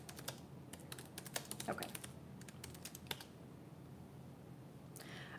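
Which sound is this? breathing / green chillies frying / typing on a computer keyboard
typing on a computer keyboard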